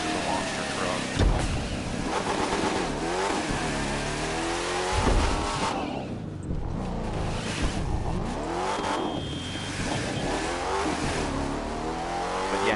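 A monster truck engine in the racing game The Crew 2 revs and roars continuously, rising and falling in pitch with bursts of acceleration and tire squeal, while someone talks over it throughout.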